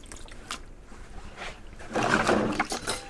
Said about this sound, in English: So what I prefer to do is to drain off the water first of all.